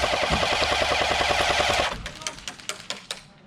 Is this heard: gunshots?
yes